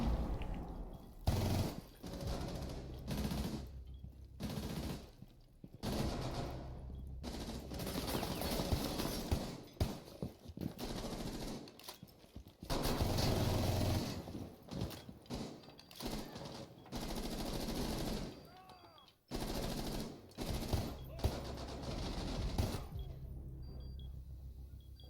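Rainbow Six Siege console gunfire: repeated bursts of automatic weapon fire and single shots throughout, loud and dense, with rumbling impacts between volleys.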